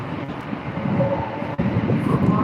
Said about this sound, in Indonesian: Keretanya kereta cepat guys. Speednya luar biasa.